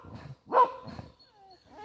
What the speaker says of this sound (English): Growl? Don't need a growl.